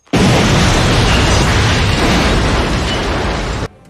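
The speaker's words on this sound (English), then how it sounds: "They fall right into his trap and half of them explode." A huge, sustained explosion roars from the start in a Jean-Claude Van Damme action film, loud broadband rumble holding steady for over three seconds before cutting off abruptly.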